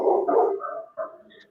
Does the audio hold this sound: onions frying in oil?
no